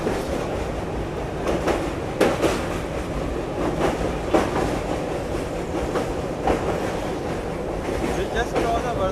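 The Doronto Express runs over the Wardha river bridge with a loud, continuous rumble and a rhythmic clatter of wheels on the rails. Voices talk over the steady din.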